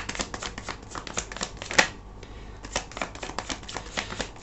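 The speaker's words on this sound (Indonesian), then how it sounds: "Aku akan ambil 5 kartu terlebih dahulu." Tarot cards being handled and drawn from a deck, a quick series of soft, crisp flicks and slides at close range, with one sharper snap partway through.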